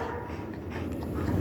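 A dog whimpers and lets out small yips and barks close by, fairly soft against a low background hum, with no one talking.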